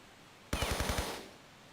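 A rapid burst of about six gunshots fired at fish in the video game Tomb Raider Remastered III, loud and close, with a short ringing decay and no talk.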